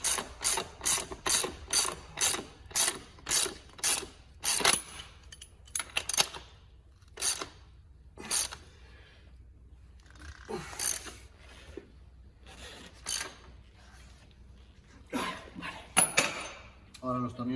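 Ratchet tightening the swingarm tensioner bolts on a two-stroke enduro motorbike: a fast run of clicking strokes, then slower separate clicks and short bursts, close and clear, with someone talking between them.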